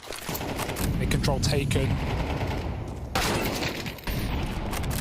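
Rapid gunfire from the Counter-Strike map Mirage in a pro esports match, bursts of shots crackling under steady caster commentary throughout.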